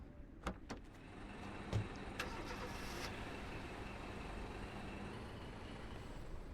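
A truck engine idling and running in the Foxhole war game, a steady low rumble throughout with a few sharp clicks and clunks near the start.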